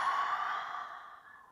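A single soft, steady exhale of breath during a yoga stretch, close and quiet, fading out over about a second with no talking.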